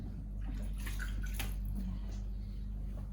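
Small amounts of water slosh and drip gently as a baby is bathed in shallow water, a soft close splashing over a steady low background hum.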